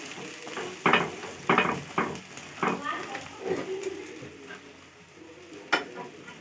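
A roti set on a hot pan for a homemade roll, with repeated bursts of sizzling and frying crackle as it is pressed and shifted, alongside clinks of utensils and occasional talk.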